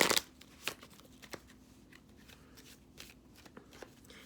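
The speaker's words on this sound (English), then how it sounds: "I'm going to pull a love oracle card for you guys just to wrap this up" Love oracle cards are shuffled by hand in a quiet room: a quick riffle of soft flutters and taps, with a few sharper card snaps spaced through the clip and nobody speaking.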